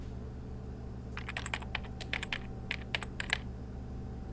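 Rapid keyboard typing in the video game A Story of Questions, a quick burst of light clicking keystrokes starting after a second and running for about two seconds over a low steady hum.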